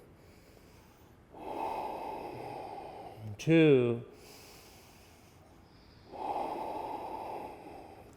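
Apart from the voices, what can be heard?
deep yogic breathing during Ashtanga yoga class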